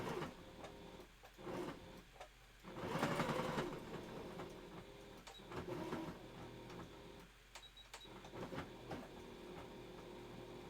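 A home sewing machine stitches a costume wolf tail in several bursts of rapid mechanical whirring and clatter, separated by brief pauses, close and moderately loud with no talking.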